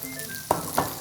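Young radish greens (yeolmu) stir-fried with pork and doenjang in a pan on a home stove, a close steady sizzle with two louder bursts as the food is stirred.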